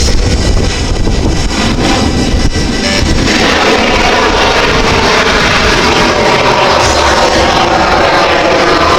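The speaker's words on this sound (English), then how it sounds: "It's extraordinary what this aircraft can do." Rich Goodwin's Jet Pitts aerobatic biplane roars overhead at the Midlands Air Festival, a loud, sustained jet-and-engine rush that fills the whole stretch and shifts in tone as the aircraft moves.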